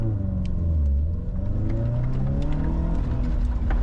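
A rallycross car's engine drones steadily as it drives on the track, mid-pitched and close, holding a continuous rising and falling tone with no talk over it.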